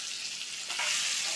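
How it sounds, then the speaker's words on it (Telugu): Vegetables and tomato fry in oil in a pan on a low flame, giving a steady close hiss of sizzling that swells a little louder partway through. "సిమ్లో పెట్టి ఫ్రై చేసుకున్నాము"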